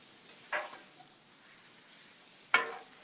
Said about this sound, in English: the sausage is cooking really quickly